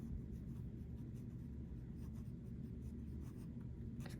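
An extra fine flex fountain pen, nib reversed, writing in wet Ancient Copper ink across paper, a continuous close scratchy rasp with small stroke-by-stroke variations and no speech.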